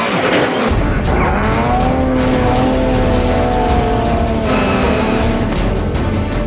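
Rally car in a gravel oversteer slide, engine roaring loud and steady throughout with rising and falling pitch sweeps as the revs change, continuous without a break and no voices.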